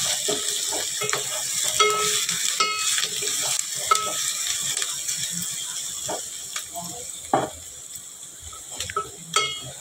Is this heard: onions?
yes